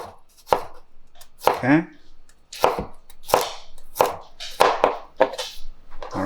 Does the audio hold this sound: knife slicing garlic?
yes